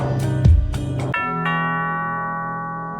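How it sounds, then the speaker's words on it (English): A doorbell in the courtroom game Judge Simulator rings a bright two-note ding-dong chime. The second tone rings out and fades slowly over a couple of seconds, loud and close. "Ding dong."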